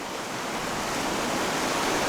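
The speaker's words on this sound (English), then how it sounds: "And back behind me we have the very swollen creek" The steady roar of swollen Sleeping Child Creek rushing nearby, a loud, dense, continuous wash of water with no gaps and no voices over it.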